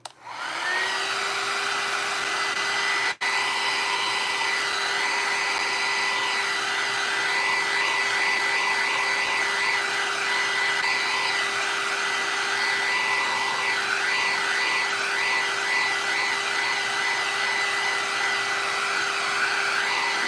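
Steady loud whir of a hair dryer blowing on freshly painted grungy Halloween bottles, running continuously without a break for the whole stretch, with no voices.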